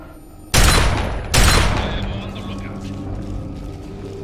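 Two loud, close gunshots in Fallout 3 fire at a trap about a second apart, each a sharp blast followed by rattling, echoing debris that fades slowly.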